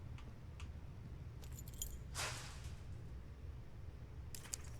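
Keys picked up in a cave in the video game Firewatch, a few light metallic jangles and clinks, brief and fairly close, with a louder rattle in the middle and another near the end over quiet background.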